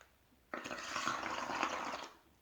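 Breath blown out through a straw into bubble solution, a sudden burst of bubbling and gurgling that starts sharply, holds steady for about a second and a half, then stops; close and fairly quiet.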